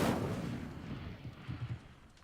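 An Incendio fire spell cast in Hogwarts Legacy bursts out as a loud whooshing blast that fades away, followed by a few soft crackling pops, with no talk over it.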